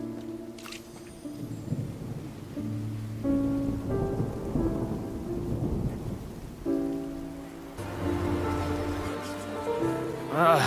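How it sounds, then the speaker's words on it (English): Rain and rolling thunder in the video game Genshin Impact, a steady wash of rainfall with low rumbles swelling and fading across the scene beneath layered game music, with no talk. "It's raining again? I've had enough of this weather."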